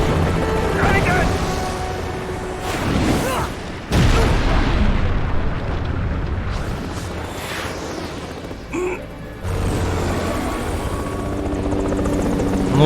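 Helicopter rotor drone in the video game Metal Gear Rising: Revengeance, a loud steady whir that runs the whole way under game music and effects, with a heavy boom near the middle.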